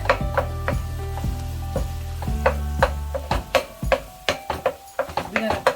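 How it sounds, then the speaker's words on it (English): Ground turkey sizzles in a hot pan while a utensil chops and scrapes it apart, making repeated close knocks and scrapes over the steady frying hiss as a person talks. "we want to start by breaking up the turkey"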